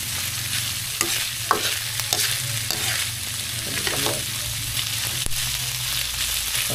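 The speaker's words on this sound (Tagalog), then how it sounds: "igisa mo lang siya" Boiled, grilled and finely chopped pork ear and jaw sautéing for sisig, a steady sizzle and frying crackle with scraping stirs and occasional utensil clicks against the pan, close up and without talk.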